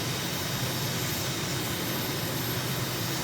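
Steady, loud aircraft engine roar during a takeoff climb in Microsoft Flight Simulator, a continuous broadband drone with no talk over it.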